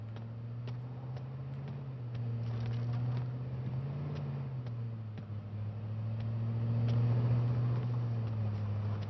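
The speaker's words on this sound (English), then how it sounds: "So I hear a vehicle." A steady engine drone from a vehicle driving nearby in H1Z1, its low hum rising and falling gently over a constant background rumble.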